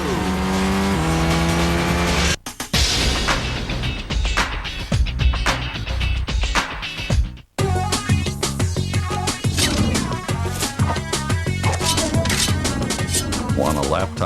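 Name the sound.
car racing and tire squeal from video game Toca Race Driver 2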